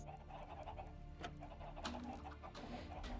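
Minecraft chickens cluck on and off against a continuous low game hum, moderately close, with a few sharper bursts in the second half and no voices.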